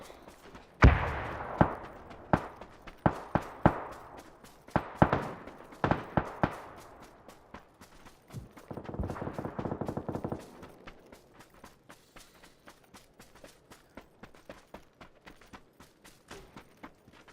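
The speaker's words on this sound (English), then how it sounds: "Was that you shooting that?" Gunfire in the battle royale game PUBG, with a scattered run of sharp shots at uneven intervals, a brief rapid burst midway, then fainter, more distant pops trailing off.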